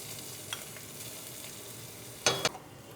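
Chopped garlic, ginger and green chilies fry steadily in a pan for bhindi masala, giving a continuous soft sizzle broken near the end by a couple of louder scraping stirs.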